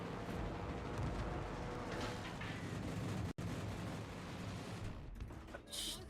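Anti-aircraft gunfire aimed at bombers in World of Warships, a continuous rumbling barrage of booms and crackles with a sharp break midway, loud and without talk.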